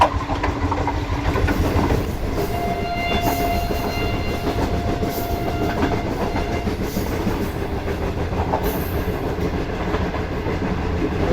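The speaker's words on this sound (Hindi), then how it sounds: "ट्रेन ने स्पीड जो है वो पकड़ ली है" A safari train in the Thar Desert rolls along after gathering speed, giving a loud, continuous close rumble with dense clickety-clack over the rails and no voices.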